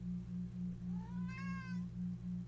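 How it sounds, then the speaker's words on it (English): A house cat begging for food lets out a single rising-and-falling meow over a steady, pulsing electrical hum in the room, with no talking. "You get to hear our cat begging for food in a second"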